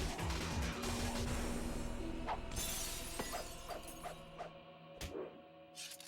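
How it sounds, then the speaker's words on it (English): In Devil May Cry, glass shatters loudly at the start, then crashes and tinkles, and scattered shards ring out as separate sharp hits that fade over several seconds. "He's doing his sword moves while there's shattered glass around him."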